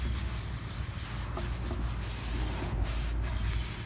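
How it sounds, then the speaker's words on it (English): A lint-free rag dampened with rubbing alcohol rubs steadily over a sanded wooden table top, giving a continuous soft scrubbing swish with slight rhythmic strokes, close and unaccompanied by speech. "I'm gonna take a lint-free rag with some rubbing alcohol and I'm just gonna go all around it"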